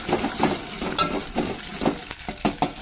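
Beaten eggs fry in a spoonful of oil in a pan for egg fried rice, giving a close, continuous sizzle with occasional soft scraping and stirring clinks throughout.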